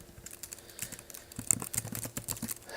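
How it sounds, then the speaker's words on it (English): Quick, light clicking from fingers typing on a computer keyboard, an uneven run of soft keystrokes heard close up against faint room noise. "let me go ahead and type that in"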